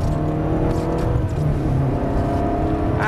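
Supercar engine on the ProDrive circuit at Kenilworth pulling hard after an upshift, a close, steady in-cabin drone whose pitch climbs and holds with a brief whine at the end.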